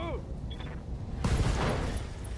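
Mech weapons fire in RogueTech, a BattleTech mod video game: a burst of rapid machine-gun-style shots and booms erupts midway after quieter electronic tones, loud and sustained.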